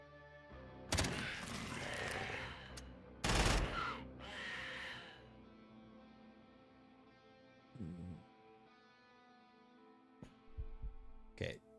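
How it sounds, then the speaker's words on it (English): Gunfire from enemies in the video game Quasimorph: two loud, sharp broadband bursts near the start, then quieter scattered shots over a droning game soundscape, with a final short burst near the end. "they're shooting, they're wasting their shots at the Quasi"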